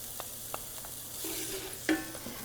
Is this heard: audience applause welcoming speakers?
no